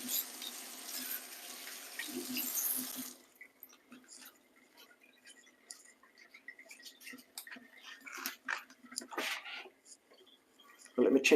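A plantain is washed under a running kitchen tap: a hissing stream of water for the first few seconds, then intermittent drips, splashes and handling clatter, with speech in places.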